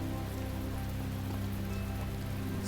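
Rain falling in the video game The Talos Principle, a dense, steady hiss of drops on surfaces with a low hum underneath, continuous and fairly loud with no talk.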